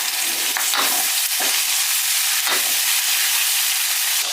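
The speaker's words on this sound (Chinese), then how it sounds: "下入葱姜蒜，加入豆瓣酱，炒出红油" Scallion, ginger, garlic and bean paste stir-fried in hot oil in a wok, a steady loud sizzle throughout with a few scraping stirs of the spatula, no talking.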